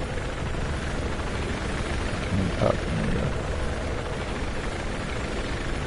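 Helicopter flight in the Battlefield 4 video game: a steady, loud rotor and engine drone throughout, with someone talking briefly over it.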